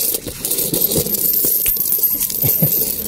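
Loose coins from a couple of months' savings jingle and clink continuously as they are poured and shuffled out of a bag, with dense overlapping metallic taps up close and no talking.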